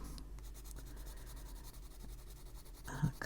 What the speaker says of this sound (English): Let's go over it with a white pencil here and see how that goes.